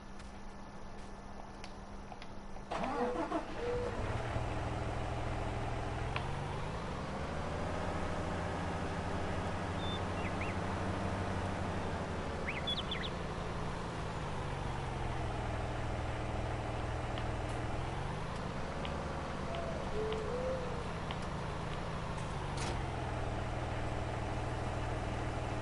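A tractor engine in Farming Simulator 19 cranks and catches after a brief quiet start, then settles into a steady low idle with a few slow rises and falls in pitch, close and continuous, with no talk.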